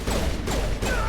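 Suppressive gunfire in Mass Effect Legendary Edition, three rapid bursts of weapon fire spaced evenly over a dense, loud battle din.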